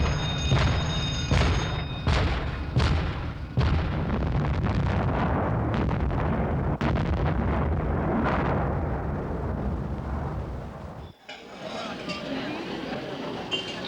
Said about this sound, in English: Main weapons of the destroyer escort are the anti-submarine mortars, operated from the sonar control room